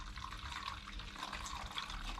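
Water from a hose pipe pours into a jug in a steady, soft, broadband rush that stays even for the whole moment, with no voices.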